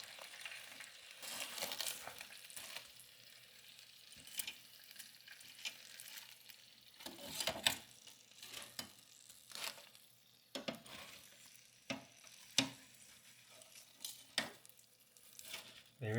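Chicken thighs are turned over in an air fryer basket, giving light scattered clatters, scrapes and soft sizzling taps spread over the span, fairly quiet and close with no talk.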